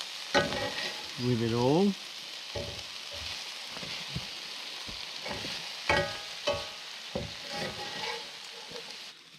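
Food with garlic frying in a pan on a camp stove beside a river, sizzling while being stirred and scraped in short bursts, someone speaking briefly over the cooking.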